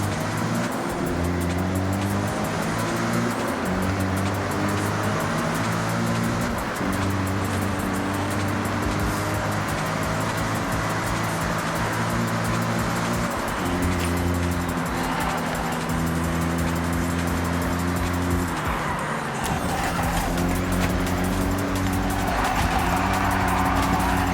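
A Toyota GT86 tuned for a long drive in Forza Horizon 6 runs steadily at high revs, its engine note climbing through the gears in repeated rises and shifts, loud and continuous with faint tyre noise.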